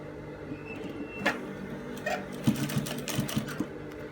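Sewing machine stitching a shirt cuff, running with a steady close mechanical hum and a few sharp clicks and taps near the end, fairly quiet throughout.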